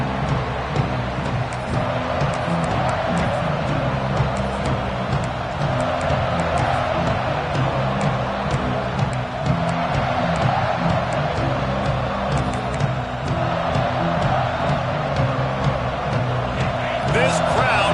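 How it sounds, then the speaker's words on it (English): Stadium crowd roaring in the College Football 26 video game, a dense, constant wall of cheering noise heard under a commentator's continuous talk. "This crowd bringing an ear-splitting welcome to their visitors."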